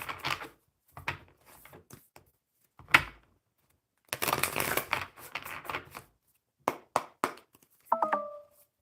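Tarot cards being shuffled in a series of short riffling bursts and soft taps, close and fairly quiet, separated by pauses, with a brief electronic tone at the end.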